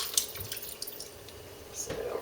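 Water drips and trickles off a head of cabbage lifted from a food-grade hydrogen peroxide bath, close and fairly faint, with scattered drops and a brief splashy run near the end.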